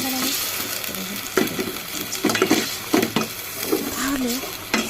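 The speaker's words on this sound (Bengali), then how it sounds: "এখানে আমি 1 কাপ তেল দিয়ে 1 কাপ পেঁয়াজ দিয়ে তেজপাতা গরম মশলা দিয়ে আমি ভেজে নিচ্ছি" Onions, bay leaves and garam masala fry in a cup of oil, a loud close sizzle with repeated stirring scrapes and knocks of a spoon against the pan.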